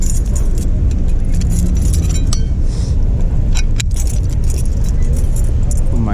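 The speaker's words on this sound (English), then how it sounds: "Put my keys away." Car keys jangle and clink repeatedly, close by, over a steady low rumble inside a vehicle, with no one talking.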